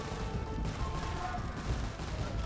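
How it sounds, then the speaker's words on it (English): Organ guns firing in a medieval strategy video game, a dense unbroken rattle of rapid gunfire and booms, loud and continuous with no gaps and no talk over it. "Walls aren't going to help against these organ guns, though."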